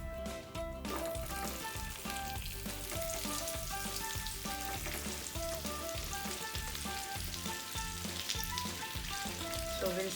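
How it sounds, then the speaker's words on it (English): Mashed sweet potato sauteing in ghee on a low flame for sweet potato kheer, a steady crackling sizzle behind soft background music. "So we'll saute this on low flame till the sweet potato takes up the flavor of the ghee."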